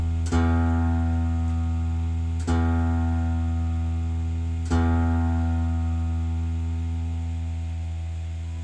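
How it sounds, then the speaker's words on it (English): The low E string of a guitar, tuned, is plucked three times, each note ringing out steadily with rich overtones and slowly fading between plucks. "play the thickest string of your guitar, the top string physically,"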